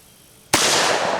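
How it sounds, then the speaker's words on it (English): A single sharp gunshot, fired at eggs with PET reload ammunition, cracks out loud and close after a quiet lead-in, then a sustained bright wash of echo and debris noise trails on. "And I shot 5, didn't miss anything"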